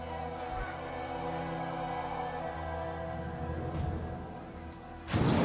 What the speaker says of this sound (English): The villager is interrupted by a deafening clap of thunder,